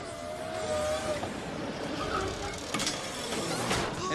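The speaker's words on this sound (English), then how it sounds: "I'm a parking gate and I'm all out of whack" Malfunctioning parking gate mechanism, a steady mechanical whirring and grinding with scattered clanks and rattles, close and continuous throughout.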